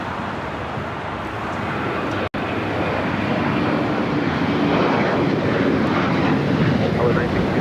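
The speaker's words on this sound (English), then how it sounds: "This is Alaska Airlines, Flight 1418, taking off to Guadalajara" Alaska Airlines passenger jet on its takeoff roll at LAX, a loud, steady, broadband engine roar that builds and holds throughout, with radio chatter in the background.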